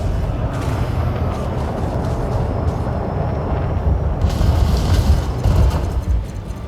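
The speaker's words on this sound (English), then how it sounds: "they're shooting at me already" Enemy weapons fire in the TAO video game: dense, rumbling booms that build into a heavier, louder barrage in the last few seconds.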